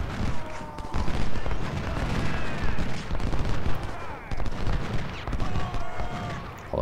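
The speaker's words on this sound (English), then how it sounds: "these guys are firing here with no reply" Musket and artillery gunfire in the video game Ultimate General: Civil War, continuous rolling volleys and deep booms layered into a dense battle din, with a voice talking faintly underneath.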